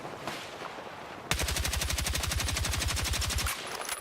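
Sustained full-auto burst from a TR7 rifle in Battlefield 6, a rapid, evenly spaced stream of loud shots lasting about two seconds after a quieter stretch, with no talking.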